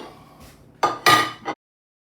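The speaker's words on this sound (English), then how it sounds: "So we move the spinach and the garlic over to a plate temporarily." Spinach and garlic are moved from a pan onto a plate, producing a few close, sharp clinks and scrapes of a utensil on cookware over about a second, then silence.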